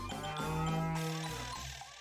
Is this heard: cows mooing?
yes